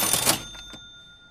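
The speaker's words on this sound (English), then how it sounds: "that first sound was kind of like a cash register sound" A cash register sound effect: a short bright clattering burst followed by a ringing bell-like 'cha-ching' chime that fades out quickly, heard alone.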